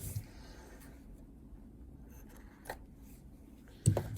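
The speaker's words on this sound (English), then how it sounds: "I'm gonna cut my thread right here" Scissors snip through sewing thread at a sewing machine during quilting, with quiet rustling and handling before a couple of crisp cuts near the end.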